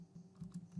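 A few quiet keystrokes on a computer keyboard as a name is typed, soft irregular clicks close by within under a second.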